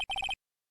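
A short electronic phone ringtone from the Phoenix Wright: Ace Attorney game plays after redial is pressed, a quick run of four bright beeping tones that stops abruptly, with no voices.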